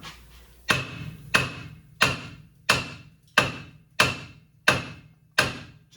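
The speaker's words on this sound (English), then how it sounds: "We got the hammer on the steering knuckle." A hammer striking a steering knuckle during a Silverado/Sierra/Suburban/Tahoe/Yukon suspension rebuild: eight sharp metallic blows at an even pace, each ringing briefly before the next.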